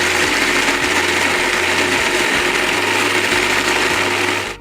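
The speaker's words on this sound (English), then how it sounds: "And then we're going to blend that." A blender whirs steadily as it purées a vegan vodka sauce of seasonings, salt and vinegar. The motor drone is loud, close and continuous, with no voices, and it cuts off at the very end.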